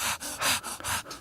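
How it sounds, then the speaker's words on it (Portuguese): Rhythmic breathing in a song recording, a quick run of about five breathy pants, close and airy, with no other voice. "Você começa a perceber a respiração"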